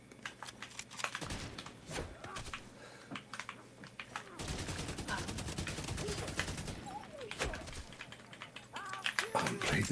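Rapid bursts of video game gunfire on Google Stadia crackle in fits and starts, with a long sustained stretch of shooting in the middle, all mixed under game audio and a talking voice.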